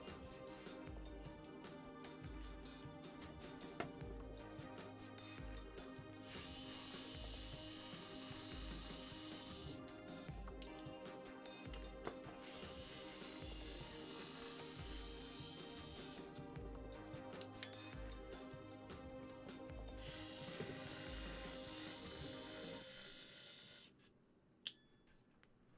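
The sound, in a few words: power screwdriver removing screws from board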